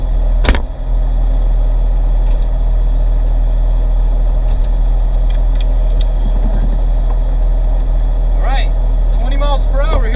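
Porsche 911 cruising down a road, a steady low engine drone with road and wind noise, a thump near the start and a voice speaking briefly near the end.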